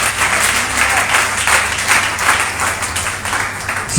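A church congregation applauds the Lord at a French-language service, steady sustained clapping filling the room without pause, loud and dense throughout.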